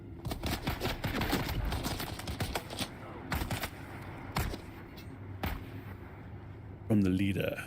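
Gunfire in the video game Dune: Awakening, with rapid clustered shots and bursts at an irregular rhythm, then a few loud isolated cracks spaced out, ending in a louder burst.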